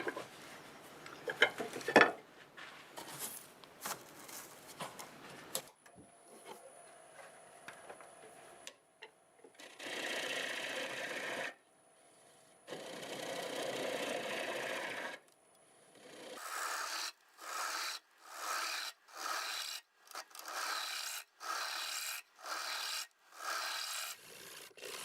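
Silver maple firewood being cut on a wood-turning lathe, raspy scraping strokes that come in repeated bursts, first irregular, then quick evenly spaced passes toward the end, close and moderately loud with a faint whine underneath.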